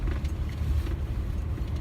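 A truck engine runs with a steady, close low rumble and a dull mechanical drone, unbroken for the whole stretch with no voices over it.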